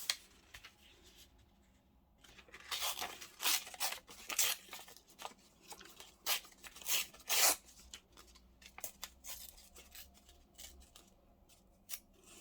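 Paper for a junk journal being torn and handled at close range, a quiet run of short crisp rips and rustles coming in uneven bursts, with no talking.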